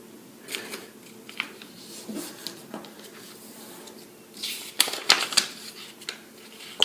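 Paper being folded in half and into quarters for an origami Sonobe unit, soft rustles and crinkles that grow into a few sharper creasing snaps near the end, close and quiet, with no talking.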